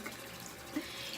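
Tap water runs steadily into a sink while warming for a face wash, a soft continuous hiss with a small splash, faint and close.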